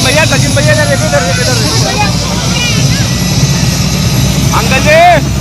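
A helicopter flying a bride in to a wedding in Moradabad, its steady rotor and engine drone filling the air while a crowd chatters and shouts nearby.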